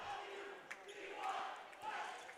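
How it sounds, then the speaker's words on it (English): Home crowd of Brookline fans keeps up a steady roar of cheering at a boys' volleyball tournament final, with a few sharp thumps of the ball popping through the continuous, fairly distant noise. "as you can hear, the Brookline crowd not ready to call it a day just yet. They are still bringing the noise in support of their team."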